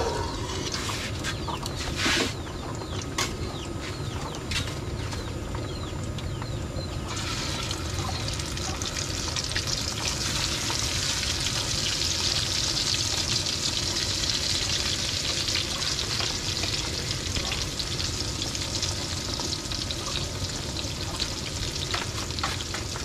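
Paklang fish frying in oil, a continuous dense sizzle and bubbling that swells slightly partway through, close and steady with faint clinks and no talk.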